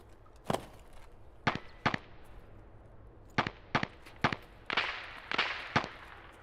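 Gunshots ring out in a video game as separate sharp cracks, some single and some in quick pairs, spaced across several seconds and moderately loud over a low background hum.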